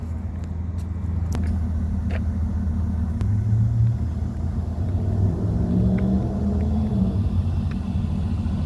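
A car idles nearby with a steady low engine rumble in the early morning, holding constant with slight swells and a few faint clicks and ticks over the top, and no voices.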